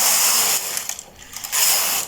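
A knitting machine carriage is pushed across the needle bed for two rows, giving a loud close mechanical whir with ratcheting clicks, a short pause between passes, no speech.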